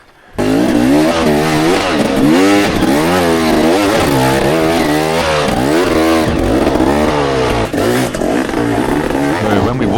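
An enduro motorbike engine revs hard and continuously on a rocky Vietnamese track, its wavering pitch rising and falling loudly and close for the whole stretch.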